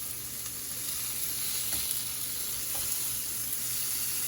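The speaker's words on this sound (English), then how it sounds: "I'm going to go ahead and put in a few pieces of bacon" Bacon strips frying in a pan for a birthday breakfast, giving a steady close crackling sizzle with a few soft pops and no voices.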